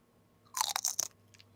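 A crisp bite and a few crunchy chews into snacks kept for a month and a half, brief and close against a quiet room.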